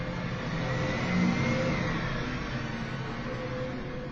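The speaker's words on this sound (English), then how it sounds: "Just wait for that truck to go past." A truck passes outdoors on a London street, a steady loud engine rumble and road roar that swells slightly midway and holds throughout with no talking.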